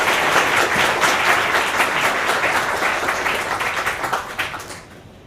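Audience applause at a Google talk welcoming Professor Daniel Kahneman, a dense sustained clapping from a large crowd that tapers off and fades toward the end.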